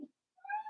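A pet cat gives one short, clear meow close by, after a brief soft thump and a moment of silence.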